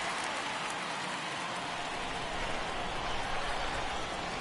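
Rain falling on a ballpark in the baseball video game MLB The Show 22, a dense, even wash of rainfall hiss, steady and fairly loud throughout with a faint crowd-like murmur beneath.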